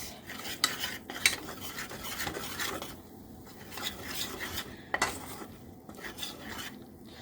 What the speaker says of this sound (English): I'm making us a roux to make our cheese sauce for our mac and cheese.